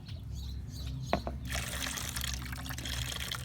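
Water trickles and splashes onto a saucer resting on a bucket in a garden, a steady close liquid patter that grows louder partway through, with a brief sharper drip sound near the middle.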